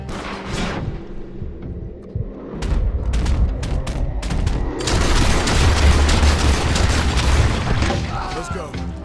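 Gunfire in Red Dead Redemption 2 builds from scattered shots to a heavy, continuous barrage of rifle cracks and booms, with voices talking amid the shooting.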